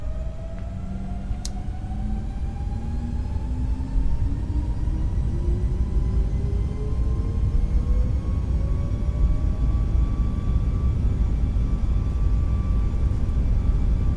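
Engines of an iFly Boeing 737 Max spooling up during the takeoff roll in Microsoft Flight Simulator, a steady rising whine over deep broadband rumble that swells and holds loud for the whole run.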